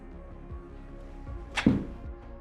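A forged TaylorMade MG5 wedge strikes a golf ball outdoors: one soft, brief contact followed by a quick whoosh as the ball flies off, over low background noise.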